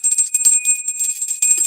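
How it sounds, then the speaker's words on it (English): A small bell rings during a tarot reading, its bright, sustained, jingling tone holding steady throughout with a couple of slight shakes, close and fairly loud with no talking. "My hands do not want to ring this bell today"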